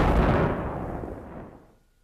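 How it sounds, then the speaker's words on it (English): A blast from linear explosives set off to clear a trail and cut a ditch through a bog hole, one heavy boom that rumbles and fades away over about two seconds. "fire line or linear explosives are proving very effective for trail clearing and for creating ditches through bog holes"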